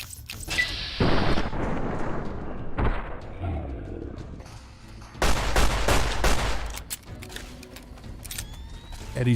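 Gunfire in Fallout New Vegas during a fight with invisible Nightkin and a minigun: sharp loud shots and a dense volley of bursts with booming thuds and gaps between, a voice talking at times.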